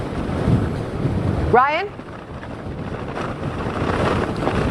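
Strong wind gusting on Corporation Beach, Cape Cod, during a January blizzard: a loud, steady roar of wind buffeting the microphone, with a brief voice heard over it.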